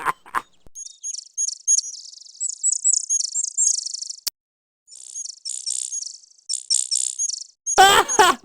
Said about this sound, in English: The guy's got a cockatoo!